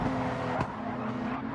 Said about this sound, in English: Tire spin